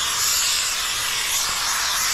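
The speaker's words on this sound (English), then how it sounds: "We're gonna put a little steam on it here to get it starting to cure." A handheld steamer blows steam onto paint protection film on a Harley-Davidson motorcycle, a steady, loud, close hiss running unbroken throughout with no voices.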